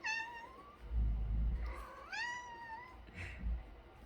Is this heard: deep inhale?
no